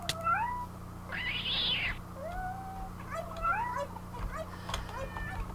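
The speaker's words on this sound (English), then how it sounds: "really not a fan of the cats in this game" Cats meowing in the video game Minecraft, several drawn-out meows and rising, wavering cries in a row over a steady low hum, with one higher, brighter yowl near the start.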